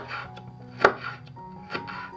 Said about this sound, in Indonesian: Pertama-tama kita potong bumbunya, Lur. Ada bawang putih, bawang merah, kemudian cabai